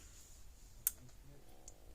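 A Gallagher B80 electric fence charger, just switched on, gives a single faint sharp click against a quiet background hiss.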